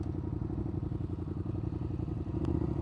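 A Ducati Monster motorcycle engine idles with a steady, throbbing low rumble and rapid firing pulses, close and even throughout, the revs sitting slightly raised.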